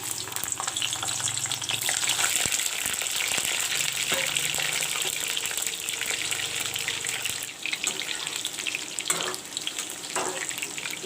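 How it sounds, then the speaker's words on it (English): Brinjal (eggplant) pieces half-frying in refined oil give a continuous bright sizzle and crackle, with occasional clinks and stirring bumps as the slices are moved about the pan. "First I will half fry the brinjal and take it out."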